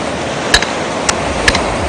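Sharp impacts from a hammer driving a pile into sand, three distinct strikes spaced about half a second apart over a steady background rumble of machinery, no talking.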